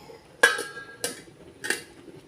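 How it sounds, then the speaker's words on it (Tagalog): Metal lid set onto a cooking pot of fish paksiw with vegetables, three sharp clanks spaced about half a second apart, close and clear against a quiet background. "Ngayon, takpan para maluto yung gulay."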